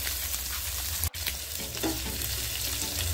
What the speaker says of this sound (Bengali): এক সাইড হয়ে গেলে অপর সাইডটাও ভেজে নেব উল্টিয়ে মাছগুলোকে